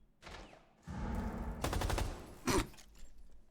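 Rapid automatic gunfire from a gun in Rainbow Six Siege rattles in several bursts, loud and dense, followed by a sharper blast and quieter trailing shots, no talking.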